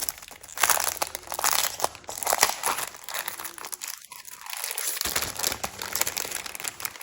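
Crinkling and rustling of a plastic pack being opened and die cut paper ephemera pieces handled, a steady close crackle with a brief quieter lull midway.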